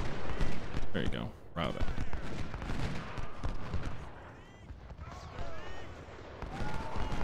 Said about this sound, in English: we got 3 brigades firing at Bohein's brigade, who's in the open